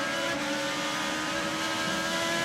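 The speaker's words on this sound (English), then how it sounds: "You can listen to the throttle." An IndyCar engine holds steady on throttle during the St Pete street race, producing a loud, continuous high-pitched drone with stable tonal harmonics throughout and no voices.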